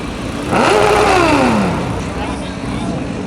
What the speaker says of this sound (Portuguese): passa entre os carros em alta velocidade com escape aberto. Na hora que vai sair do semáforo, acelera no último